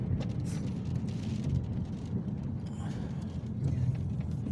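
Typhoon Eowyn heard from inside a car on the road, a dense steady roar of rain and wind on the body with a low rumble underneath, loud and continuous.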